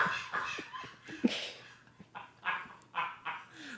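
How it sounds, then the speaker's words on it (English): Small dog Lucy barks in short, sharp bursts, close by, with a few louder yips spread across the moment and breathy noises between them. "She's a good dog."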